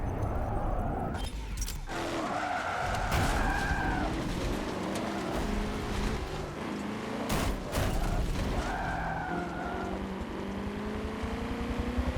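Race cars in Forza Motorsport 7 roar continuously, with engine notes rising and falling through gear changes, sharp bangs and clatter breaking in, as muscle cars battle closely on track.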